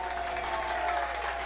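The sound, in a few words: soccer fans cheering and applauding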